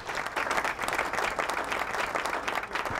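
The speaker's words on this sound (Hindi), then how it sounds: "अगर आप तालियां बजाएं" Audience applause at a live music gathering, dense steady clapping from a crowd throughout, moderately loud and without talk.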